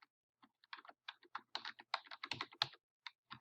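Typing on a computer keyboard to enter a comment in VoiceThread, a close, quiet run of irregular key clicks that speeds up in the middle, with no talk.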